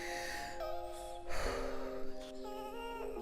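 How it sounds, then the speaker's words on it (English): A deep breath drawn in slowly during a guided breathing session, a soft airy inhale rising over a sustained musical drone with tonal pads, followed by a gentle release. "let's take our breath"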